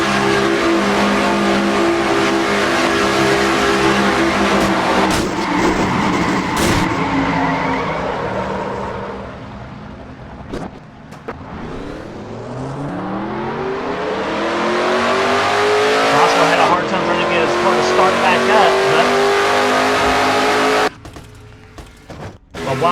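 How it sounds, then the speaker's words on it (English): A race car in a stock car racing video game revs and shifts through engine pitches, with tire skids and a sharp crash impact, then the engine winds down. "let's go for a ride with Joshua Osborne on this crash"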